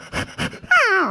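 A man imitates a dog, giving two short gruff barks followed by a rising and falling whine, close and loud.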